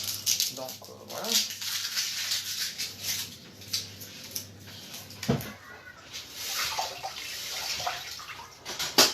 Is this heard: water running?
yes